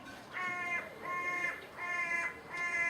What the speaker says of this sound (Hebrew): כן, יש פה ציפור.